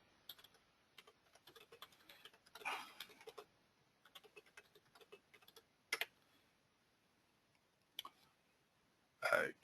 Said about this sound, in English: I'll just type him a quick note.